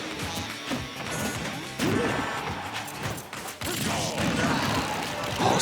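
A forward smash attack lands in Super Smash Bros. 4 during a Sheik versus Wario tournament match, a sharp heavy crash amid busy game effects and repeated hits, with crowd and commentary noise faintly underneath.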